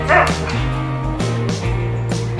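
A dog named Ollie barks and yips close by, a few short, sharp bursts followed by steadier woofing and whining, fairly loud, with no talk.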